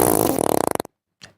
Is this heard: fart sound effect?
yes